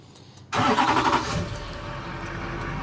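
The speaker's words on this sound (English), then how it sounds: "So I'm going to use the remote start on my truck" A truck engine started by remote start cranks and catches abruptly out of near silence, surges briefly, then settles into a steady low idle, close and clear.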